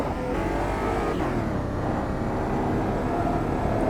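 A race car engine drones steadily through laps in the sim racing game Automobilista 2, a loud, continuous close-up roar with a slight pitch shift as it accelerates, heard alone.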